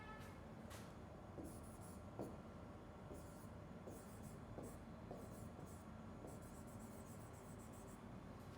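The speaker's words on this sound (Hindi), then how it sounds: "चलिए वो सवाल में लिखता हूं" Marker or chalk writing a question on a board in a classroom-style lesson: soft, repeated scratchy strokes in short bursts over a steady background hiss, with no talk.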